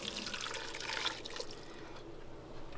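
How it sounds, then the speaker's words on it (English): Homemade chicken stock is poured into a pot, a splashing, trickling stream of liquid that runs for about a second and a half, then tapers into faint dribbles and quiet room hiss. "you just want to carefully pour all of that nice liquid"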